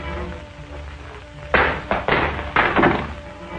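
Guns tossed onto the ground in a 1946 film serial, a quick run of separate thumps and clatters landing close by, about four impacts over a couple of seconds after a quiet stretch.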